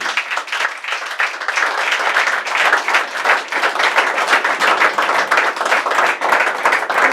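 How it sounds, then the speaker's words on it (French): A church congregation claps and applauds for Jesus Christ at a deliverance service, dense sustained applause from many hands, loud and steady throughout with a few faint voices mixed in. "Acclamons très fort pour Jésus-Christ."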